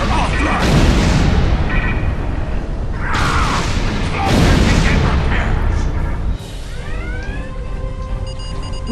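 Starship weapons fire and explosions in Star Trek Online, heavy booming blasts and rumbling impacts in close succession, with a lighter electronic sweep toward the end.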